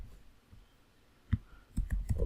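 Several close, distinct mouse clicks come in a quick irregular cluster over a quiet room hum, alone and fairly crisp.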